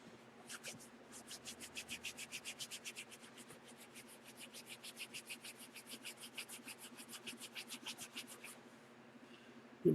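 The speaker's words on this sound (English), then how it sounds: "Give it a good little rub there." Leather for a passport wallet gets rubbed by hand with a piece of canvas, making quiet, rhythmic back-and-forth scratchy strokes in a fast, even series that stops near the end.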